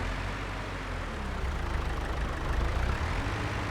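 John Deere tractor engine in a farming video game, a steady low diesel rumble with broadband noise that swells slightly toward the end, continuous and fairly loud with no talk.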